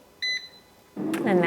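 Air fryer control panel gives two short electronic beeps as play is pressed, clear and close, followed by a rising whir of the fan starting up.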